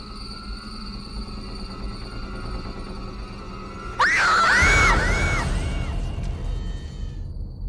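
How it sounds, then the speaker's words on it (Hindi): A boy lets out a loud, piercing, wavering scream lasting over a second, bursting suddenly over a steady low rumbling background that continues after the cry fades. "पर तू इतने जोर से क्यों चिल्ला रहा था?"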